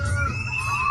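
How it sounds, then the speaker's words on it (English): A stadium audience at a bull event screams and shouts as a bull charges into the stands, a dense, loud, continuous crowd roar that holds for the whole moment. "the camera is dropped as the audience starts screaming"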